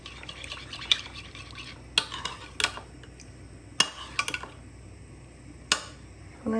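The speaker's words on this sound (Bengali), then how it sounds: "আমি একটা ছোট বাটির মধ্যে দুধ নিয়ে এটাকে মেলাচ্ছি" Milk being stirred in a small bowl for malai kulfi: a spoon scrapes and clinks softly against the bowl in a quiet, steady rhythm, with a few sharper taps.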